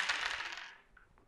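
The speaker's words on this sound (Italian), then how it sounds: "Bisogna come prima cosa svuotare tutto il sacchetto." Board game pieces for Dungeonology: The Expedition pour out of a bag onto a table, a dense clattering rush of small pieces lasting about a second, then thinning to a few scattered clicks.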